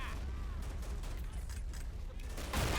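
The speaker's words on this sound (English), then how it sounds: "Mortars are still firing at the Russian infantry attacking." In the war game Men of War Assault Squad, gunfire and mortars crackle steadily in a dense battle soundscape, with scattered shots and a louder burst of fire near the end.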